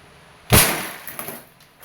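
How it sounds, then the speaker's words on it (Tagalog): A glass bottle shattering from a Crosman Phantom P10 CO2 airgun pistol shot, one sharp crash followed by a brief scatter of tinkling fragments, close and alone. "This is the Crossman Phantom P10 airgun pistol. CO2 powered."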